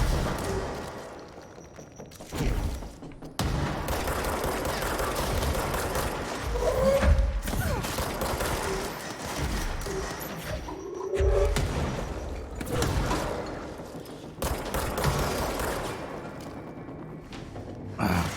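Shotgun blasts from the video game Control, several heavy booms and thuds spaced irregularly amid dense in-game combat noise, loud and close.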